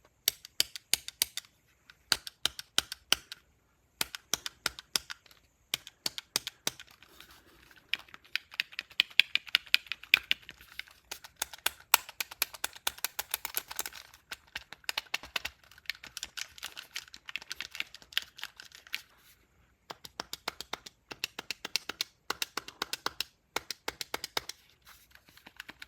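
Buttons on a Hyperkin Scout controller pressed repeatedly in quick bursts, sharp close clicks and taps in irregular clusters with short pauses, alone and fairly quiet.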